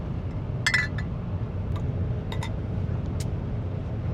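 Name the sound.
soda bottles clinking together in a toast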